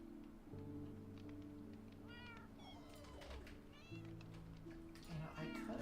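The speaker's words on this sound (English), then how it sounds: "The the kitten just hanging out under there." A kitten in Minecraft gives several thin, rising and falling meows, scattered over a few seconds above steady, sustained background tones that run underneath.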